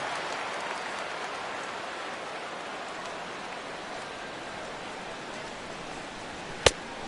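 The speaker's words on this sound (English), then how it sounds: "This has got to be the hardest rain we've seen all afternoon." Steady heavy rain in a baseball video game, a dense even hiss that holds across the whole stretch with one sharp click near the end and no voices.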